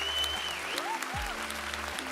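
A crowd claps in a short burst of steady applause that sits fairly faint under a few electronic tones and glides, with no clear voices.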